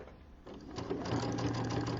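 A sewing machine stitches a quarter-inch seam, its motor whirring steadily and building up in a soft, continuous hum.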